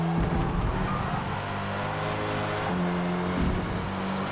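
Hot hatch race cars running nose to tail around a racing circuit in a TORA Hot Hatch Challenge round, engines droning and shifting pitch as they pass, a loud continuous roar of several cars without speech.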